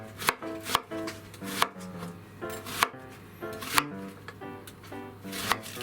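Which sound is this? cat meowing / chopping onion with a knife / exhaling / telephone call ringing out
chopping onion with a knife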